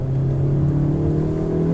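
A Honda Civic driving along, a steady close engine hum and road rumble with a constant low drone and no big changes in revs.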